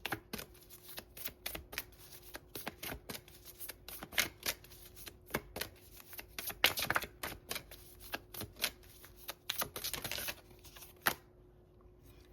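Oracle cards being shuffled by hand at close range, a long run of quick papery riffles and sharp card snaps in uneven bursts, ending in a brief quiet.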